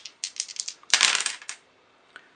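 Three dice rolled during a No Man's Land trench-warfare board game: a few light taps, then a dense, close rattling clatter lasting about half a second, and one faint tick afterward.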